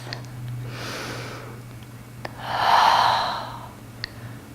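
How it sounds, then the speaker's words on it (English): A deep breath is drawn and released during a yoga pose, with a soft breathy inhale followed by a fuller, louder exhale swelling in the middle, close to the microphone over a low steady hum. "Take one more breath."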